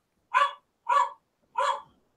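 A dog gives three sharp, evenly spaced barks, close and clear against silence, with no other sound between them.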